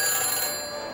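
A single electronic phone ring tone after dialing in the Back to the Future video game, bright and sustained for about a second, alone without speech.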